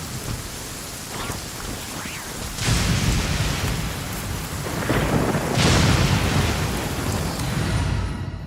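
Rolling thunder in Genshin Impact, a low rumble that builds into two heavy swells over steady rain falling on surfaces, loud and sustained throughout.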